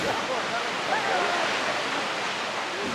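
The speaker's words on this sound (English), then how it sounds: "Today we're at Multnomah Falls. You can see it behind me, plunging 620 feet over these layers of Columbia River" Multnomah Falls plunges 620 feet over layers of Columbia River basalt, giving off a loud, steady wash of roaring water close at hand, with faint bird calls drifting above it.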